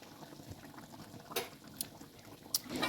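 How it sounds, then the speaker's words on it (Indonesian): Seafood sauce with soy sauce bubbling at a low simmer in a pan while being stirred, a steady soft wet bubbling with a few sharp utensil clinks against the pan. "masak sampai mendidih kurang lebih sekitar 1 menit sambil diaduk-aduk agar tidak gosong"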